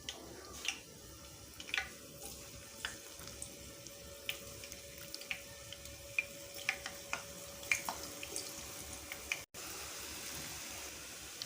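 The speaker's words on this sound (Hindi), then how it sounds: "अब हम इसको ऑयल में डाल के फ्राई करेंगे।" Potato bites fry in oil in a pan with a soft, continuous sizzle and scattered sharp crackles and ticks, heard close and fairly quiet, with no voices.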